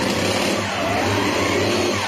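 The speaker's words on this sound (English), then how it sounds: "No, I can hear the supercharger." A car engine in the BeamNG driving game, its supercharger whining over a dense, steady engine roar that holds at a constant pitch for a couple of seconds, loud and close, with no voices.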